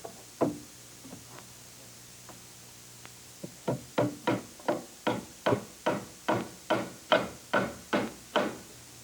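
A hammer drives nails at an angle into a wooden stair tread, a few scattered knocks followed by a steady run of about a dozen evenly paced, ringing blows, close and clear.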